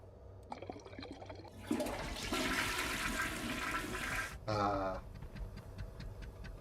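A toilet flush in the space-survival video game Stationeers: a brief click, then a loud rushing gush of water for a few seconds and a gurgling drain, set against a faint steady ticking.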